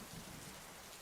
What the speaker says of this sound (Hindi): बारिश भी तेज हो गई थी।